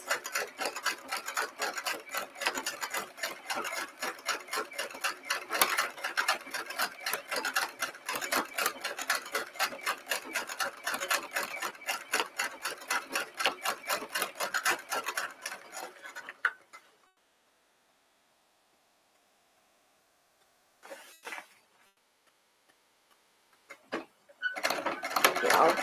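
A sewing machine stitches fabric piping in a fast steady rapid-fire rattle for about fifteen seconds, then stops. After a quiet pause come brief bursts of stitching.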